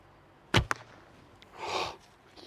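An arrow loosed from a fiberglass-based Hungarian bow with a 32-inch draw gives a sharp, loud release snap followed by a quick second thump, then a softer whooshing rush of flight a moment later.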